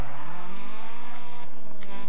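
Rally car engine revving hard with tire skid in the Dirt Rally video game, a loud, steady, droning engine note that rises in pitch, heard alone without talk.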